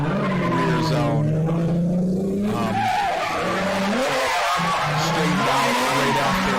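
Drift car in a pro-am qualifying run, tires squealing loudly as it slides through the first turn after a clutch kick, with the engine roaring and revving continuously close by.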